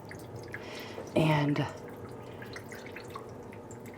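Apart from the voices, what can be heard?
water draining out of a turkey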